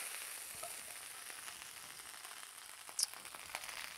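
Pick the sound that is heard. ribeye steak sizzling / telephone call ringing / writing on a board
ribeye steak sizzling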